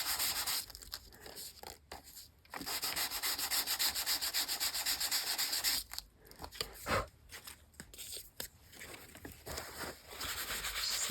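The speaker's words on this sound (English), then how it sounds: "Sand it a little bit and wipe it off." Close, steady abrasive rasping of sandpaper worked over Tim Holtz paper pieces to roughen and distress them for an art journal, running in long continuous strokes with a few brief pauses between passes.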